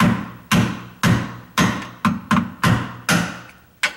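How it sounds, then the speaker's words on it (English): Eight sharp metal taps, evenly spaced about half a second apart, as a screwdriver is struck to punch out the knockout on a dishwasher's drain fitting, close and loud with no talk. "I've just got my crummy screwdriver. I'm going to hold it there and tap on here."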